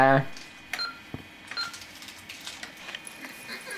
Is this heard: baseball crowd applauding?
no